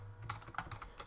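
Computer keyboard typing during a Modern Skyblock 3 Departed Minecraft session, a short burst of several soft clicky keystrokes close by over a low steady hum, with no talking.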